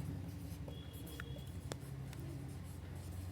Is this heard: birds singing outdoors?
no